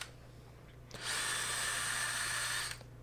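Power drill with a right angle attachment boring holes in a CNC router table, a near, loud high-pitched whine lasting about two seconds that starts and stops abruptly.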